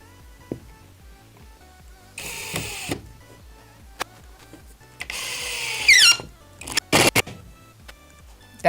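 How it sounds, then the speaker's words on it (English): A screw shank driven into a small pilot hole squeaks loudly in bursts against a steady rhythmic mechanical hum, with several sharp clicks and clatters in between. "That's a loud squeak."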